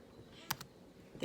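A single press of the enter key on a computer keyboard, a faint, quick double click alone in a quiet room.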